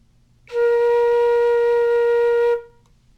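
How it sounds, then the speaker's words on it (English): A single sustained flute note, B flat, held steady for about two seconds alone in a quiet room, clear and close with a bright fundamental and even overtones, ending cleanly. "And that's what B flat should sound like,"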